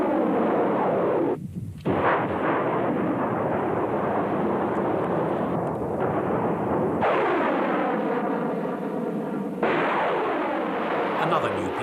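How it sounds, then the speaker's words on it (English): Rocket barrage from a multiple launch rocket system in the Gulf War, each ripple loosing up to 12 rockets: a loud, continuous roaring rush with sharp launch blasts, heavy and dense throughout. "the multiple launch rocket system, capable of firing ripples of 12 rockets, each containing 644 bombs"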